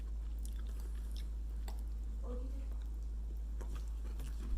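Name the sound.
chewing crunchy cheesy jalapeno Cheetos chips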